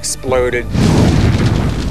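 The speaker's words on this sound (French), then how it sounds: "le volcan se fissure, laissant échapper la pression et c'est l'explosion" A volcano erupts in a huge explosion: after a brief spoken bit at the start, a deep, loud rumbling boom rolls in and sustains with a heavy low roar to the end.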